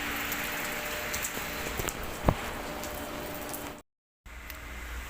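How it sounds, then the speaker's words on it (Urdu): Heavy rain falling in Medina, a steady dense hiss of drops on surfaces throughout, with one sharp tap near the middle and a brief dropout before the downpour resumes. "بہت بارش ہے، تو ابھی آپ کو دکھاتا ہوں باہر کیسا موسم ہے۔"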